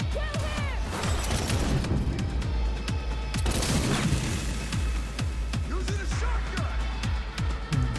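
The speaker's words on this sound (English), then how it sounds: "Shotgun? No, this is a sniper rifle, actually." Sniper rifle fire in Cyberpunk 2077 rings out as dense, overlapping shots and booms amid busy combat noise, with mechanical clatter throughout and no voice.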